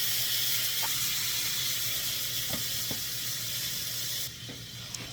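Spam and chopped tomato frying in a pan, a steady loud sizzle and hiss with a few light clinks of a utensil, easing slightly near the end.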